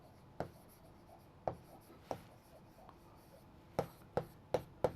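Pen strokes scratch on paper as someone writes by hand, coming as sharp separate scrapes with pauses between them, quiet and close.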